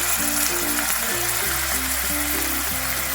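Finely chopped tomato tipped into ginger garlic paste frying in oil, a loud, dense, continuous sizzle up close with faint stirring clatter, no talk.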